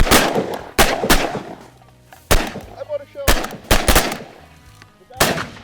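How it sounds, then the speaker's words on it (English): Loud, close shotgun blasts ring out during a duck hunt, about eight sharp reports fired in quick irregular volleys at waterfowl, each with a brief echoing tail. "Nice shooting, boys."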